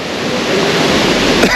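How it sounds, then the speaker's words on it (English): Stockghyll waterfall on a Lake District hillside, a steady, loud rush of falling water with wind buffeting the microphone, continuous and close with no voices. "Over here is the first waterfall. This is Stockghyll."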